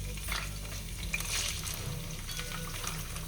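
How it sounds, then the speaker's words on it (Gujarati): Onion fries in a hot pan with ginger and garlic for street-style chow mein, a steady close sizzle with occasional stirring scrapes, continuous and moderately loud. "ડુંગળી શેકી દેવાનું."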